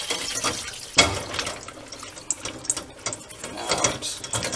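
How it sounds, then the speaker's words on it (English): Ice being scooped out and handled in a kitchen while preparing shrimp cocktail, giving close, irregular clatters and rattling clinks with a sharp knock near the start, alongside splashy watery rustling. "I'm going to get the ice out so that it's easier to deal with"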